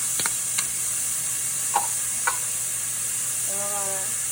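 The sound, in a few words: onions and garlic sizzling in a pan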